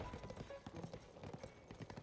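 Horse hooves clip-clopping in a Zelda game, a quick continuous run of muffled hoofbeats at moderate distance over a faint background.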